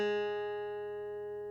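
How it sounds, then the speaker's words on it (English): A single guitar note on the third (G) string fretted at the first fret, ringing clear and sustained, then fading slowly over about a second and a half with nothing else heard. "Take your first finger and place it on the first fret of the third string"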